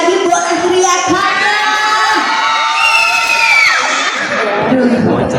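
A crowd of children shouts and cheers together at a youth talk event, a loud, continuous mass of high voices with whoops rising and falling throughout.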